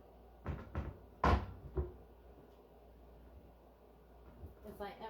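A kitchen cupboard under the sink bangs open and shut with several close wooden knocks and thuds, a voice talking between them, then quieter rustling and shuffling at the end.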